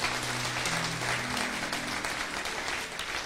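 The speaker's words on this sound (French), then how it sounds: "Est-ce qu'on peut acclamer et célébrer ce roi de rois?" A church congregation applauding and cheering, steady dense clapping from a large crowd throughout, with a sustained musical tone underneath at the start.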